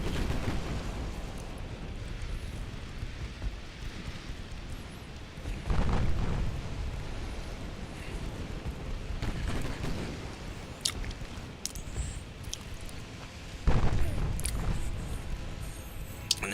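Naval guns fire in a dreadnought-era sea battle in Ultimate Admiral Dreadnoughts, several heavy booms spaced apart over a low rumbling background, with sharper distant cracks scattered between them.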